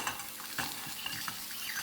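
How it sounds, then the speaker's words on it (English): Butter sizzling and frying in a hot pan with lamb, a steady crackling hiss broken by a few close stirring scrapes, with no talking. "We're just going to add a little bit of butter, and that's going to help bring everything along."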